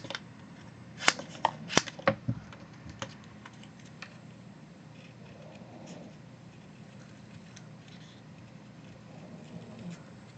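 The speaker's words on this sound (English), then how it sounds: "And then I cut them out." Scissors snip out paper shapes, a cluster of sharp crisp clicks early on, then softer scattered cuts and rustling paper at close range in a quiet room.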